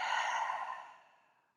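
A single long, full exhale through the mouth or nose, starting strong and breathy, then fading smoothly away over about a second and a half, close and soft, with no speech.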